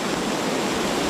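Fast-flowing flood water rushes through streets in China, giving a dense, steady roar of churning water that fills the short moment, close and loud with no voices.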